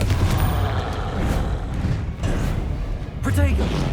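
Booming Confringo spell blasts erupt in the Hogwarts Legacy game, several heavy thumps and rumbling explosions over a few seconds while someone talks excitedly over the action.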